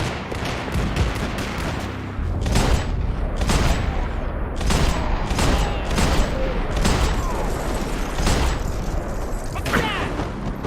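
Max Payne gameplay gunfight, with rapid, irregular gunshots crackling loud and close for the whole stretch. A voice shouts now and then over the shooting.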